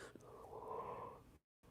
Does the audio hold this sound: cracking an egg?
no